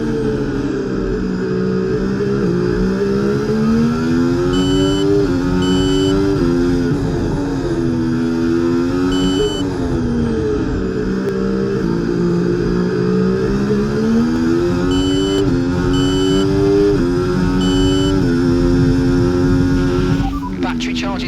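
F1 race car engines in an EA Sports F1 game rise and fall in pitch as they accelerate and shift, a constant loud buzzing whine lasting throughout, with voices talking over it.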